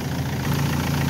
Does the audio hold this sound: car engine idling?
yes